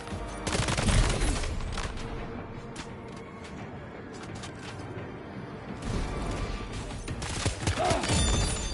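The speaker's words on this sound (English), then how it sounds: "God damn, we take some shots." Rapid bursts of gunfire crackle through Dead Space 2, dense volleys at the start and end with a quieter stretch of scattered mechanical clanks and impacts between them, loud and close with no talking.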